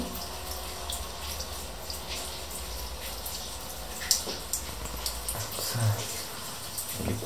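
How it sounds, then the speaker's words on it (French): Water leaks and runs from a pipe in an abandoned house, a steady hiss of flow with scattered drips and splashes close by. A few soft clunks and a faint voice come through. "Ah mais là en plus non ça coule du tuyau"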